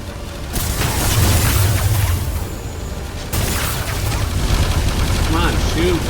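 Gunfire in the video game Everreach: Project Eden, with dense bursts of shots and booms packed close together and continuing loudly, while a voice talks over it now and then.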